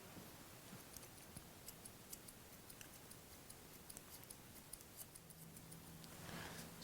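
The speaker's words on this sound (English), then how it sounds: "I'm doing is cutting that little bit of hair on the base of the comb" Steady run of quiet, crisp snips from scissors trimming hair along the edge of a comb during a 1940s-style side-part combover with a low fade, close and faint over a soft room hush.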